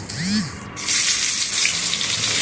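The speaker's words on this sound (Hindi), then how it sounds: "कड़ी पत्ता डाल देंगे और मिर्ची डालेंगे," Mustard seeds, fenugreek, cumin, curry leaves and dried chillies hit hot oil in a tempering for a Chhattisgarhi meal, giving a loud, continuous hiss and sizzle after a brief clatter at the start.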